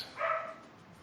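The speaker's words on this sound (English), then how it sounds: "This also has loud puppies." A single short puppy bark or yip rings out, moderately close and clear, then fades into quiet room tone.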